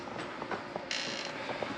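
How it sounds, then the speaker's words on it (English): A door creaks as it is pulled shut, a continuous grinding squeak with a few small knocks, close and moderately loud, and no one speaking. "Close that door behind you."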